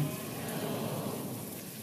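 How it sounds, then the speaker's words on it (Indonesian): Heavy, steady downpour fills the space with a dense, continuous hiss and rumble, loud and unbroken throughout with no pauses or distinct drops standing out. "Suara saya kedengaran kah dengan bunyi hujan yang cukup lebat?"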